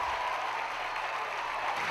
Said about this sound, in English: the Carolina crowd gives him a nice hand for his solid work